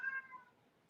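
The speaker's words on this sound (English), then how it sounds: "the kitty crying behind me" A cat meows close by, one drawn-out cry fading over about half a second into quiet room tone.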